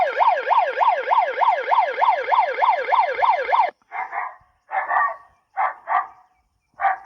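A battery-powered peacock-scaring machine in a paddy field sounds a loud rising-and-falling electronic siren wail for several seconds, then switches to a series of short, choppy beeping bursts with gaps between them.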